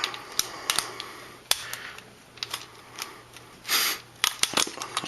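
Plastic toy rocket booster parts for a Uranos Blackbird figure snapped and pegged together, a string of sharp close clicks and taps at an uneven rhythm, with a brief scraping rustle midway.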